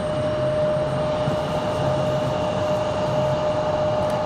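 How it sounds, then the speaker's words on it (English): A JetBlue airliner takes off at Raleigh-Durham International Airport, its engines roaring in a broad, steady wash with a constant whining tone, heard from a distance without any talk. "JetBlue already cleared for takeoff."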